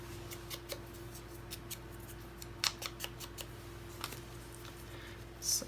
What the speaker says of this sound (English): Just cutting out a blue ticket I have here.